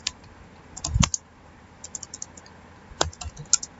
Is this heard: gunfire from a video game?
no